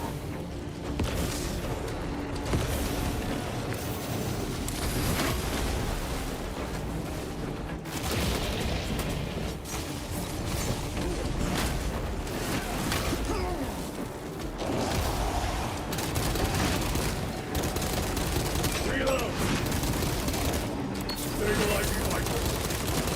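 Las rifle fire from a video game, several shots cracking and booming in bursts against a dense, continuous backdrop of battle noise and rumble, with a voice talking over parts of it.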